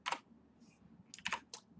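Quiet, close clicks of a computer keyboard: a single key press, a soft faint tick, then a quick cluster of three or four taps, with no talking.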